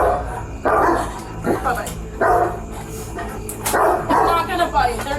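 Dogs bark and yip in a few loud bursts at a home doorway, mixed with people talking over them nearby.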